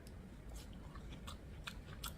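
Close crunching bites into crisp iceberg lettuce, four or five sharp, brittle crunches spaced out over soft chewing, with no talking.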